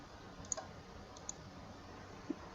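A computer mouse clicks a few times while cells in a spreadsheet are selected, with sharp, faint, isolated clicks spaced apart in a quiet room.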